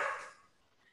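A dog gives a single short bark that fades off quickly, heard faintly in the background of a Zoom talk, with no voices over it.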